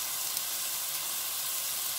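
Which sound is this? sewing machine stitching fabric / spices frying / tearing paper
spices frying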